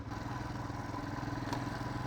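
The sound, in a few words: motorcycle being ridden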